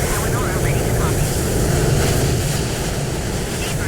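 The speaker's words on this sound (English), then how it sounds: "There's an aircraft taking off as well." A jet airliner roars in a steady, broadband rumble that lasts throughout at low visibility on a windy day at Gatwick, the engine noise from Microsoft Flight Simulator loud and unbroken.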